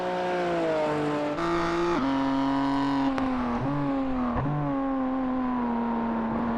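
A BMW race car in a Clubman Cup racing game, its engine droning steadily with several sharp gear-change dips and revving climbs, loud and continuous with no talk over it.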